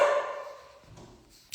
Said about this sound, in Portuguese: Aí ela fica latindo quando ele chega